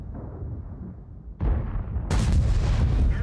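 A tank cannon firing in the World of Tanks video game, a heavy booming blast that jumps sharply in loudness, followed by a second, even louder explosive crack that rumbles on densely without any voice.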